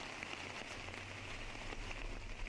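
Light rain falls steadily on a disc golf course in La Mirada during a tournament, an even, faint hiss with a low rumble of wind beneath it.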